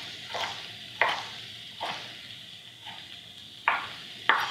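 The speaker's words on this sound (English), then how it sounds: "We're going to chop it into chunks." Green pepper cut into chunks with a knife on a board, a handful of separate sharp chopping knocks at irregular spacing over a low kitchen background, no talking.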